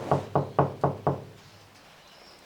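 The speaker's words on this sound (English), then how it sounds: "I knock on this wall, which I haven't put the vibration dampening mats on, versus when I knock on this wall with the dampening mats" Five evenly spaced knocks on the bare metal wall of a Renault Master van, without vibration-dampening mats, ring out close and hollow, each followed by a brief resonance before quiet.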